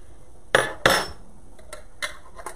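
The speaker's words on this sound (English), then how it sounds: "to my saute pan, I am going to add a couple cloves, equivalent of a couple cloves of garlic" Jarred minced garlic is spooned into a saute pan, giving two sharp metallic clinks of the spoon against the pan followed by a few lighter taps, close and distinct with no talk.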